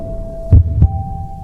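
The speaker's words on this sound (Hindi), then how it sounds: "उसका दिल जोर से धड़कने लगा।" Heartbeat sound effect: two loud, deep thumps in quick succession over a low steady hum, close and heavy.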